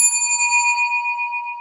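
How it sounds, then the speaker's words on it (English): A single bell strike rings out clear and loud, then sustains with a bright metallic tone that fades slowly over under two seconds, with no talking. "Let's ring the bell for that"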